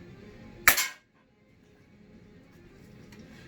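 A single sharp crack from a 1100S airgun fired at a frying pan target, loud and abrupt, followed by a brief ringing decay and then quiet room tone.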